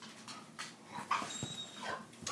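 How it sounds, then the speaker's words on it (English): A pet dog yips and whimpers in short, excited bursts, with high whining cries between them, nearby and moderately loud over a quiet room. "My doggy's going nuts."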